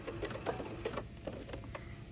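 A sewing machine runs a back stitch at the end of a lapped seam, giving a short, even mechanical whir with closely spaced needle clicks that quicken and then trail off.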